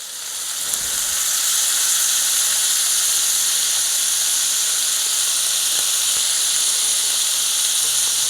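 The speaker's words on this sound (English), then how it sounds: "We're just gonna flip these real quick." Sea scallops sizzle in a hot pan as they are flipped, a steady bright hiss of frying that holds loud and even after a brief quieter start, with no talk.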